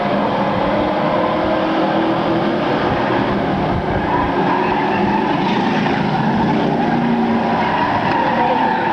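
A race car spins around in turn 3 at a speedway during a 1996 race, with loud, continuous roaring engines and tire noise filling the whole stretch.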